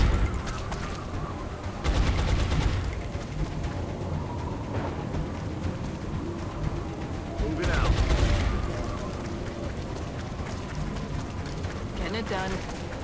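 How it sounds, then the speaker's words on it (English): Suppressing gunfire in the Long War video game, with bursts of rapid automatic fire near the start and again midway, amid game sounds and talk. "Suppressing fire on target."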